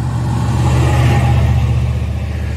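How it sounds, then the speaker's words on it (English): Truck rumbling past close by on a road, a loud, steady low engine drone lasting a couple of seconds with no voices over it. "There's a truck coming, Jake."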